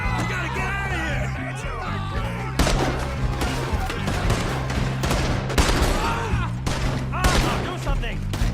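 Sustained gunfire in a Red Dead Redemption 2 shootout: rapid overlapping shots and bursts over several seconds, loud and close, with shouting voices and a low steady game score underneath.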